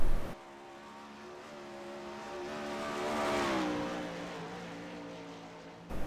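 A 410 sprint car runs a solo qualifying lap at Volusia, its engine a steady roar that rises to a peak as the car draws nearest, then eases off as it moves away. No voices can be heard.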